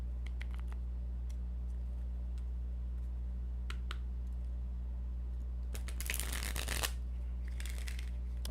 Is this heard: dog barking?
no